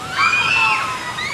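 Water splashes and sloshes as a raft passes on the River Rampage rapids ride at Dollywood, a short, fairly loud rush with faint crowd voices behind it.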